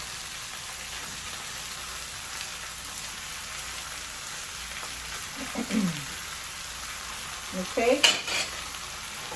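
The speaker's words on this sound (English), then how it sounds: "And put them pork chops in there." Pork chops frying in a pan, a soft steady sizzle with a couple of louder clattering bursts toward the end and one brief spoken word.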